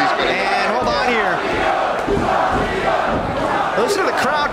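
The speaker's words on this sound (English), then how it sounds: "Listen to the crowd chanting for Savio Vega." A loud arena wrestling crowd at an MLW Battle Riot event chants in unison for Savio Vega, rhythmic massed voices with cheering swelling and repeating throughout.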